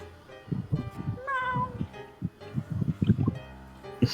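Tavern cat meowing repeatedly, a series of drawn-out, pitched meows with some rising calls, close and clear with no talk over them.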